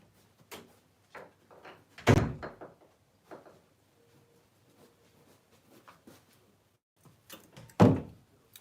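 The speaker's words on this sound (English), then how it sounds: "I'm going to close the door for a minute." A door is closed indoors: two loud thumps a few seconds apart, with some soft handling knocks and rattles around them and quiet gaps between.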